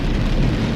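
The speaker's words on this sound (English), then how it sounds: "this rain, it just continues to come down" Steady rain comes down in a continuous, dense patter, loud and close, with no voices over it.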